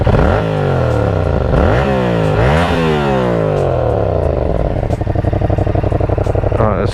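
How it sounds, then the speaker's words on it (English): A straight-piped Yamaha MT-07 motorcycle engine revs hard in loud, rising and falling sweeps, then settles into a fast, steady throbbing idle, close to the microphone. "You hear that meaty sound from the MT-07."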